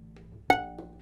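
A single violin E string plucked pizzicato with a finger stopping it, one sharp ringing pluck with clear overtones that decays quickly, heard close and alone in a quiet room.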